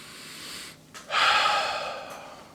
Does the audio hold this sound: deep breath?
yes